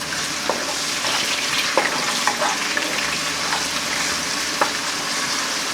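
Garlic sautés in hot oil for chicken adobo, sizzling steadily and loudly, with occasional soft clinks and scrapes of stirring in the pan.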